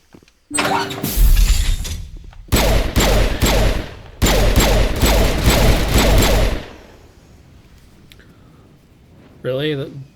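Gunfire in the Mass Effect video game crashes out in loud, dense bursts of rapid shots, three separate volleys with brief gaps, then fades to quiet before a short voice at the end.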